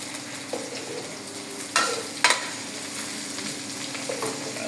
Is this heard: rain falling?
no